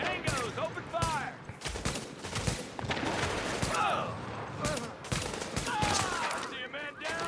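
Bursts of automatic and rapid gunfire from a firefight in The Division, dense and continuous across the whole stretch, with shouted game voices and a player talking over the shooting.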